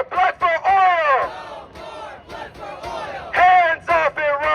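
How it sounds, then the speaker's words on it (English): A downtown street protest crowd chants and cheers in loud rhythmic bursts, voices rising together between short pauses, filling the space close by. "make some noise because this is a beautiful crowd on a Monday night"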